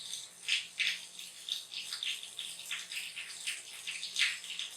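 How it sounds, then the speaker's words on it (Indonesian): Soapy hands are rinsed under running tap water until the soap is gone, with splashy bursts of water striking the hands in an irregular rhythm, close and fairly loud. "bilas tangan dengan air yang mengalir sampai sabunnya hilang"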